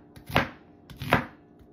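Two firm knife strokes chopping through peeled onions on a cutting board, close and crisp, evenly spaced about three quarters of a second apart, with no talking.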